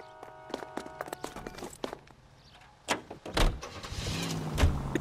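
Car door clunks shut and the engine cranks and turns over in L.A. Noire, with scattered clicks and thumps beforehand and a louder surge as the motor catches near the end.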